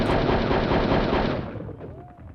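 Rapid machine-gun fire rattles loudly in the Hogs of War game, a dense continuous burst for about a second and a half that then fades away.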